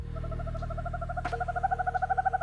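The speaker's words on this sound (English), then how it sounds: "Owl." A steady series of owl hoots repeats in an even rhythm, growing louder toward the end, with one brief sharp noise partway through and no talking.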